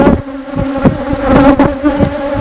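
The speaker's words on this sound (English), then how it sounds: "So I'm just going to let the bees calm down a little bit." Honeybees buzz steadily around an open hive during a summer hive inspection, a dense layered drone of many wings with occasional louder passes close by.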